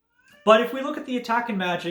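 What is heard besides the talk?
pet cat whining at a closed door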